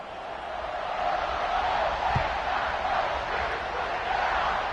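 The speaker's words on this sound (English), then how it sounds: "this crowd is buzzing after that last score" Stadium crowd at an Oregon vs Ohio State football game, a dense, steady roar of many voices that swells slightly and holds loud throughout, with one brief low thump near the middle.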